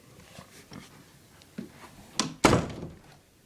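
A door swinging shut from fully open, ending in a near, solid thunk after a few softer knocks of movement, then a short fading rattle; no talk.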